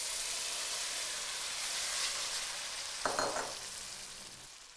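Tomatoes hit a hot pan for pizza sauce, raising a loud, steady hiss of sizzling with a short clatter of stirring near the end.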